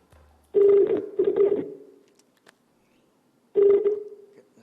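A telephone call goes out on a studio phone, with two bursts of steady ringback tone separated by a quiet gap and nobody speaking.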